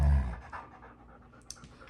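A dog named Glacier pants briefly indoors; a heavy, close burst of breathing at the start fades into softer, quieter panting, with a small sharp tick near the end.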